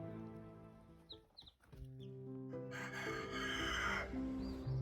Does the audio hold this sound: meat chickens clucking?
yes